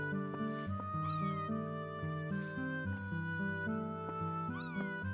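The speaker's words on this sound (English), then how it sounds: "Something else that's different is that a cat will come in." A cat meows in the video game Chrono Cross, a few rising cries over steady, layered background music, with no talking.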